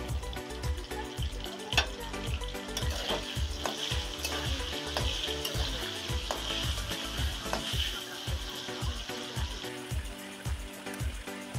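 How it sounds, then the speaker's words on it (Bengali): Salted potatoes frying in a pan, an even sizzle with repeated sharp ticking and clattering knocks across the whole stretch, fairly quiet, no speech. "তো প্রথমে আমি আলুটাকে ভেজে নেব। দিব সামান্য লবণ,"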